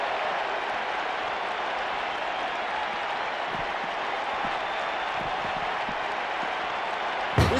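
A wrestling arena crowd in the video game WWE 2K19 roars and applauds in a dense, continuous wash of sound, staying loud throughout.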